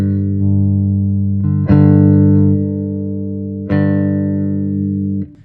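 A Payson Supercharger J multiscale fanned-fret bass holds a sustained low note while the pickup blend control is swept, the tone shifting in brightness and level, with two sharp re-plucked attacks before it cuts off.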